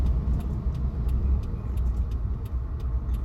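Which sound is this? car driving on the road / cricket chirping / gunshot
car driving on the road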